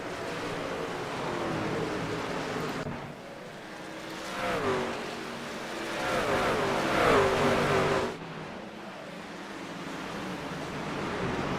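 Race trucks in a truck series race at New Hampshire roar down the backstretch, a continuous wash of engine noise with rising, swelling passes from several trucks, heard from some distance.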